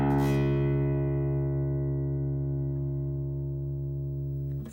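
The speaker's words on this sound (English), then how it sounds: "So here's what the low E string now should sound like." A single low guitar string detuned from E to drop D rings out once and sustains steadily for several seconds, the tone slowly fading with no other sounds.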